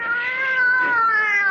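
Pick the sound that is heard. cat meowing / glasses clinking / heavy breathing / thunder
cat meowing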